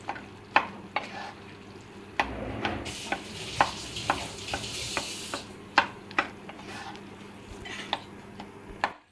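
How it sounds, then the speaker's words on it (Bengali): A metal spatula scrapes and knocks against a pan while mashing cooked ash gourd, sharp taps at a steady rhythm over a soft sizzle, with a brief louder hiss midway. "আমি এখন একটু খুন্তি দিয়ে ওইটাকে একটু মানে ম্যাশ করে দিচ্ছি কিছু কিছু"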